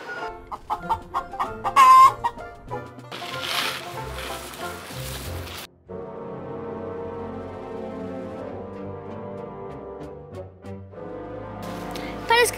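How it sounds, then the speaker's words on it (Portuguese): A hen clucks repeatedly in short bursts in a Portuguese children's cartoon story, mixed with background music and a voice talking over parts of it. "Vem, galinha, vem."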